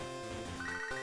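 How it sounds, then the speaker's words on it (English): An incoming phone call in Pokemon Storm Silver rings as a short electronic chiming tone, bright and steady, with a rising pitch near the end. "And we are getting a phone call."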